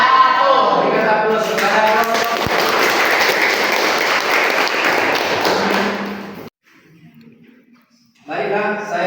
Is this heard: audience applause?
yes